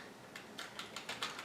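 Keys tapped on an old Pentium M laptop keyboard, a quick run of about eight light, close clicks with an uneven rhythm.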